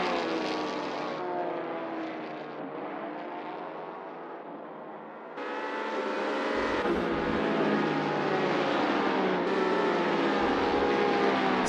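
Race car engine from the SMP Racing BR03 in Assetto Corsa at Jerez, a loud sustained roar that dips and then surges higher, rising in pitch through gear changes, with no talk.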